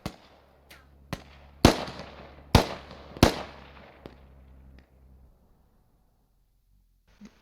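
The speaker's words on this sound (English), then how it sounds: "You can hear Americans firing inside their compound" Several sharp gunshots ring out in a video game match, fired inside a compound; five or six loud cracks in an irregular burst, each trailing off with a short echo, followed by a fainter shot near the end.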